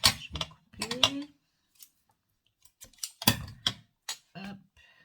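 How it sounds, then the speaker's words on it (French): Scissors snip through material while making a crayon box craft, with short crisp cuts in two clusters separated by a quiet gap, and a voice speaking softly nearby. "Je vais couper."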